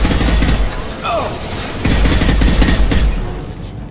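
Rapid bursts of gunfire crackle through a Mass Effect 2 squad battle, loud and dense, with booming impacts and shouted voices mixed in throughout.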